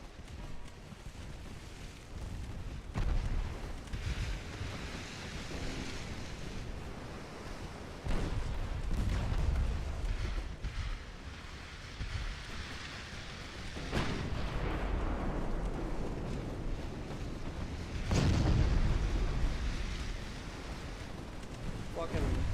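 Naval gunfire from 9.5-inch guns in the warship game Ultimate Admiral Dreadnoughts, heavy booming blasts and rumbling impacts repeating every few seconds over a constant roar of wind and sea, loud and close.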